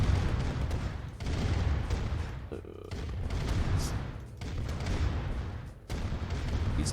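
Rapid gunfire and booming explosions as units are shot in Command and Conquer: Red Alert, dense and continuous with brief lulls, loud and close.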